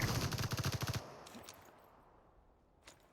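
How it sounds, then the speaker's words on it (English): A rapid burst of automatic gunfire from the game Super People rattles loudly for about a second, then cuts off, leaving a quiet ambient tail with a faint distant shot near the end. "I hear gunfight and I want to make sure I engage this"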